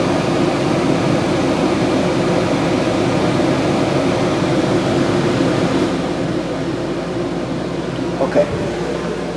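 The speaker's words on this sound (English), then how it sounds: "that's the air conditioner running without the compressor" Rooftop air conditioner on a 2021 Mesa Ridge 212FB RV, with the fan running and the compressor off, giving a loud steady whooshing drone that softens slightly partway through, while a person talks over it.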